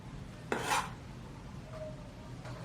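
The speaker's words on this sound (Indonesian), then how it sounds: "Selanjutnya geprek jahe" Ginger gets crushed for Soto Betawi, a single sharp smack of a blade or pestle on a board in a quiet kitchen, followed by faint rubbing.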